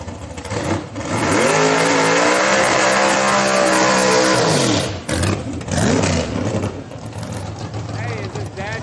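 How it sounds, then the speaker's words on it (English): A street car driven by a 71-year-old at a Friday night street car gathering revs hard, its engine roaring loud and close with rising and falling pitch, then easing off while people talk nearby. "Check this car out. Jeff Owens' dad, I think, is driving it."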